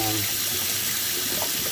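Water running and draining from a repaired kitchen sink, a steady, close rushing and trickling of water that holds throughout, with a faint voice briefly at the start.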